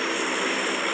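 A video-game airplane drones with a continuous, even engine roar, loud and unbroken throughout, with no voices.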